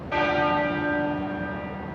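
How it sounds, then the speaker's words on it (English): The tenor bell of Westminster Abbey tolls once, a loud, clear strike that swells and then rings on with a long, slowly fading hum. "the tenor bell started to toll at 6 o'clock this evening"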